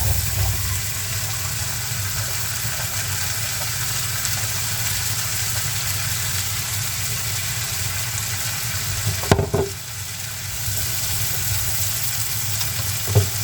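Two chopped onions' worth frying in a pan, a steady, even sizzle with a soft hissing wash throughout, broken by a brief clatter near the end.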